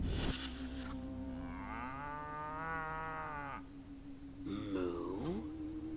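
A cow in the video game Destroy All Humans! gives a long, drawn-out low moo, then a shorter rising moo follows after a brief pause, clear and close with no talking.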